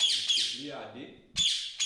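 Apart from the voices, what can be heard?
parrot squawking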